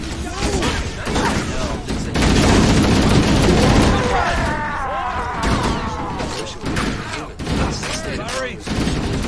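Bursts of gunfire in the Halo game, sustained crackling volleys and booms heard loud and close, with voices speaking over the shooting.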